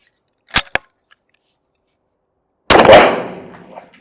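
A Vetterli rifle shot fires one loud, sharp crack that tails off into a short echoing decay, preceded by two brief mechanical clicks about two seconds earlier.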